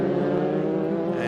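A race car, the ICE Intercapital Express transport car, at Winton circuit during a Victorian State Race Series round, with its engine holding a loud, steady, close drone through a set of bends.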